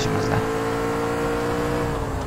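Steady car engine hum during a chase in the video game L.A. Noire, constant and fairly loud, with a brief higher sound near the start and faint talk underneath.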